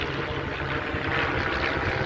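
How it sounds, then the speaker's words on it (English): Small biplanes flying overhead in a group of three at an air show, a steady, loud propeller drone that fills the air continuously without letting up. "If you look up, you've got planes going over the top."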